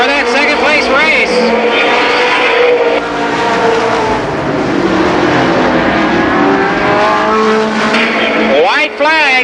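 Stock race cars roar around Columbus Motor Speedway, loud engines revving and sweeping past in overlapping waves of rising and falling pitch, with an announcer talking over the continuous racing noise.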